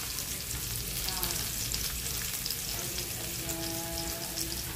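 Chicken feet fry with sugar caramelizing in a pan, a dense, steady crackling sizzle close up with faint scraping of stirring, no voices.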